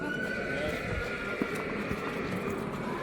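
A six-year-old stallion at a horse market neighs amid a steady din of hooves and crowd noise, while people talk throughout.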